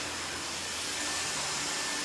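A hair dryer blows on freshly cut hair while styling a short layered bob, a loud, continuous airy roar held steady throughout.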